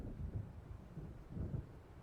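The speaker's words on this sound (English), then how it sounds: "It seems there's a storm coming." Low, rolling thunder from a storm in the video game Alan Wake rumbles faintly in two slow swells, with a hiss like wind between them.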